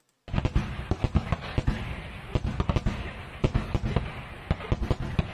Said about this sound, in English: the Russians once again firing an ungodly amount of incendiary weapons onto the Ukrainian forces